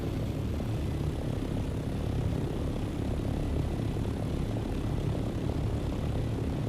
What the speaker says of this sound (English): We're just going to crash our plane right into a chat.